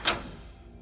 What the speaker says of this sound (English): I heard what sounded like the click of a door